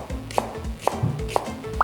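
Knife slicing green onion on a cutting board while preparing Korean bulgogi, four or five sharp, evenly spaced chops close up with no talking.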